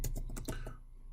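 Quick close keystrokes on a computer keyboard while entering text in PowerPoint, a short burst of about half a dozen taps before stopping.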